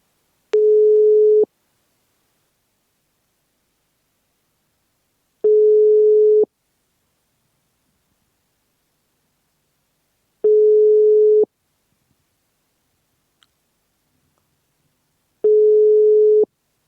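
A telephone ringback tone sounds while a call connects, four steady one-second tones spaced about five seconds apart with silence between them, loud and clear with no talking.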